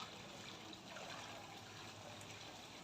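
Water pouring into a household tank makes a faint, steady rushing trickle that continues without a break.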